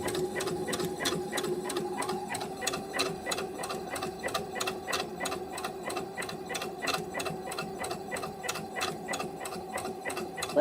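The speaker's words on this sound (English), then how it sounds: "let's do a zigzag stitch because we want to make sure this is going to be strong enough" A sewing machine running a steady zigzag stitch on a bean bag for a ball-jointed doll, a fast, even mechanical clatter with a low motor hum, close and continuous for about ten seconds.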